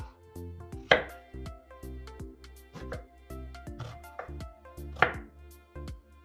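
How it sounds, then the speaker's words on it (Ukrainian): A knife chops an onion repeatedly on a cutting board, with sharp, close knocks at an uneven pace and a couple of louder strikes. "Зараз ще поріжу цибульку."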